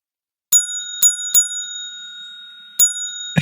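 A bell rings in four sharp dings, three close together then one after a pause, each ring bright with a long sustaining tone, followed by a brief rustle at the end.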